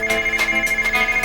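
A mobile phone rings with a bright electronic ringtone, its rapid pulsing tone repeating evenly, loud and close, with no voices.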